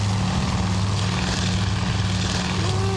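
Propeller plane engine in the naval combat game Task Force Admiral, a loud, steady droning buzz that holds constant throughout with no talk.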